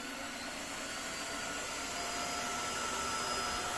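A Tineco iFloor3 wet vacuum sucks up spilled egg and mayonnaise, its motor a steady, even drone with airy suction, moderately quiet and unbroken from start to end.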